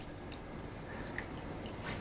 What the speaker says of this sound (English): So what we're going to do is add more liquid